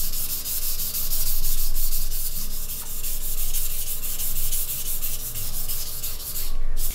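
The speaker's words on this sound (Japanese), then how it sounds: "こちらダイヤモンド砥石の1200番なんですけど、まずもうこちらを聞いてください" A carbide kitchen knife being sharpened on a #1200 diamond whetstone, producing continuous gritty rubbing strokes in a steady back-and-forth rhythm, loud and close with no talking.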